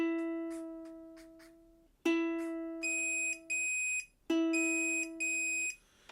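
A ukulele's E string is plucked several times during tuning with an automatic tuner, each clear, close note ringing and fading, followed by shorter sustained tones that stop and start.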